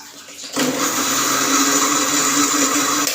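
A blender starts up after half a second of quiet and grinds jamun juice with fresh mint, a loud steady whir with a churning watery edge that holds to the end.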